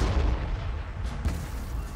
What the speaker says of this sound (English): that's all those huge orc cannons, the super cannon